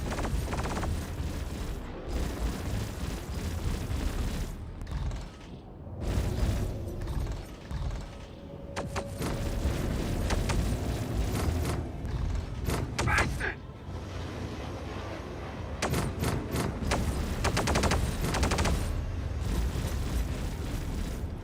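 Charging ship guns firing in the Star Citizen space game, heavy booming blasts and bursts of rapid fire broken by short quiet gaps, loud and close, with a faint tone running underneath.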